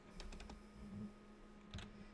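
Close computer keyboard typing: a quick burst of several keystrokes, a pause, then another short cluster of clicks, fairly quiet and alone.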